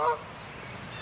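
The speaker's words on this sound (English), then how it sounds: "hear the goose?" A single goose honks loudly once at the start, then fades into quiet outdoor background near a garden.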